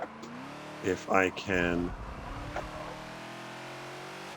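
Ford Falcon XB engine in the Forza racing game at Homestead Road Circuit, revving up through a gear change, with a brief rising whine and a shift dip, then a steady drone under a man's speech.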